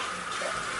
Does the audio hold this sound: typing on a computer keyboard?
no